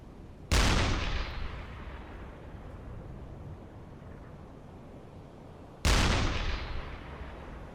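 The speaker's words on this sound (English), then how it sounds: "Continue to fire, we might as well." Two heavy booms from a U-boat submarine deck gun firing at a ship in a naval video game, several seconds apart, each a sharp loud blast trailing into a long rumbling decay.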